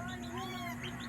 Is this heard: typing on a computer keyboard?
no